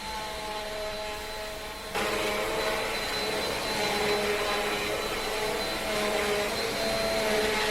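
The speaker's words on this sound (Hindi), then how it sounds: "वैक्यूम क्लीनर की हेल्प से मैं ये मैट क्लीन करती हूँ" A vacuum cleaner works over a balcony mat, its steady roaring whine stepping up louder after a couple of seconds and then holding close and continuous, with no voices.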